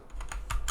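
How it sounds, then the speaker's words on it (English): Three or four sharp, separate keyboard key presses click close by on a computer keyboard as shortcut keys are struck, with nobody talking. "I'm just doing it with my keyboard, like Control C, so I can do it here to copy."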